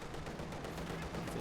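Dense tank machine-gun fire in a video game rattles in continuous rapid bursts, loud and close, filling the whole stretch without pause.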